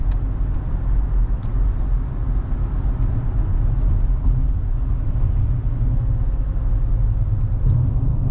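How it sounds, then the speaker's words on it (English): Steady road rumble from car traffic near a city on Thanksgiving, a loud continuous low drone of engines and tires heard from inside a moving vehicle, with no talking. "anytime you are close to the city, you gotta deal with traffic"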